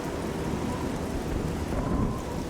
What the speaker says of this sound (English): it is just a downpour now.